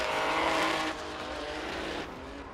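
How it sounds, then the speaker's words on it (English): Race car engine riding the rev limiter at a drift event at Orange Show Speedway, a loud, steady, buzzing high-rpm drone that holds for the whole stretch with a slight drop partway through, with no talk over it. "Riding the limiter is Rome."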